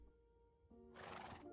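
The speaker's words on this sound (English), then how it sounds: "I'm pretty sure I had a horse lurking around my house" A Minecraft horse whinnies, a short low snort followed by a bright rising neigh, close and clear with no talking over it.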